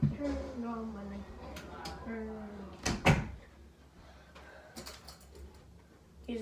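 A bedroom door is pushed shut, making one close, sharp thud after some quiet voiced talk. A few softer knocks and rustles follow in a quiet room.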